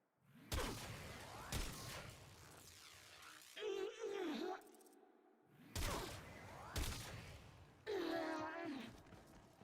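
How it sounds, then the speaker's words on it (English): A video game weapon meant to fire single shots dumps its whole magazine in rapid bursts, loud sharp blasts in several clusters mixed with whooshing effects and vocal sighs. "I am dumping the magazine of this weapon"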